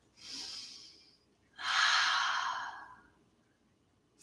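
Two deep breaths during a yoga class, a soft inhale followed after a short pause by a longer, fuller exhale, close and clear with no talking.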